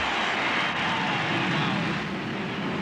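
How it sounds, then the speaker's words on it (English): A stealth bomber flies over a College World Series baseball game in Omaha just after the national anthem, a broad, steady jet roar filling the air with faint crowd murmur beneath. "this was the scene as they concluded the national anthem, the flyover of the stealth bomber"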